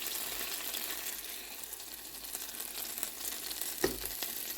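Butter and bread frying in a pan for a bread banana pudding, a steady soft sizzle throughout with a brief stirring clatter near the end.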